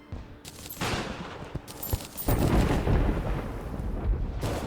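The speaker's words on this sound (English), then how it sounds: "I forgot this gun was like fireworks." A firework-like gun firing in the video game Terraria, a rapid barrage of crackling bursts and booms that swells into a dense, sustained roar of blasts.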